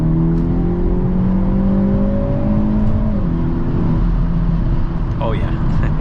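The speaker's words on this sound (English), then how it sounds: "Let's go ahead and do an acceleration here." A 2023 Hyundai Elantra N accelerates from the driver's seat, its engine droning in steady rising bands with a brief dip near the end, a continuous loud roar over road noise.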